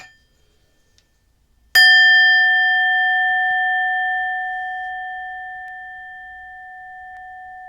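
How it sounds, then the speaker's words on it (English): A singing bowl is struck once and rings out in a clear, pure chime that slowly fades over several seconds in an otherwise quiet room. "tune into the chime of the singing bowl"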